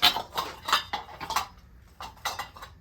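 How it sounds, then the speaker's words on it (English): Metal Revere Ware pan lids, including copper-bottomed pans, being handled and clinking together; repeated close, bright clanks and rattles in quick succession. "So here's another lid. Probably the Revere ware,"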